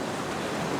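Ocean surf breaking along a beach shore, a steady broadband wash of crashing water filling the moment, loud and close with no voices over it.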